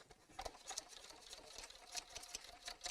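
A sewing machine stitching the seam of a simple fabric evening bag makes a soft, rapid mechanical patter with slightly uneven pulses. It runs faint and steady throughout, with no talking.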